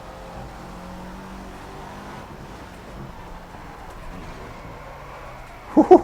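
A car engine droning steadily in the racing game Project Cars, low and fairly quiet at a constant pace, followed by a couple of louder knocks right at the end.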